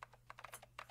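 A quick burst of fast keyboard typing, crisp close key clicks in a rapid stream over a faint steady hum.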